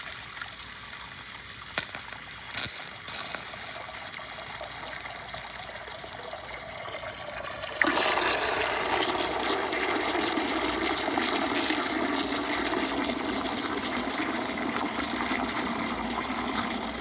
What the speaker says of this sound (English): So I'm going to fill the sink up with water